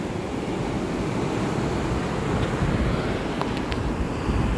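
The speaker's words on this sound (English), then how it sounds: "I want to record some of that sound. Ocean. Motion of the ocean." Ocean waves surge on a beach in a continuous, loud wash of surf mixed with wind rumble on the microphone, with no talking.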